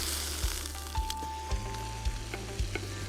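A Cape Grim scotch fillet steak sears in a hot pan, a steady close sizzle with sharp crackling pops and spits recurring every half second or so.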